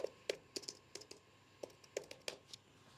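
Someone types a search on a computer keyboard: a quick, uneven run of light, crisp key clicks close to the mic, with short pauses between bursts and no talking.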